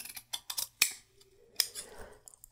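Gingher shears snip through thick sweatshirt fabric in several crisp, close cuts, with sharp metallic clicks and a longer rasping slice between them, nothing else heard.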